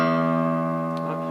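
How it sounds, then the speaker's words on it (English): The open top E string of a guitar rings out once, a clear sustained tone decaying slowly and alone. "This top string plays an E note."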